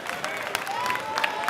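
A crowd applauds a made free throw at a wheelchair basketball grand final, a short burst of scattered clapping in an indoor arena with a voice talking over it.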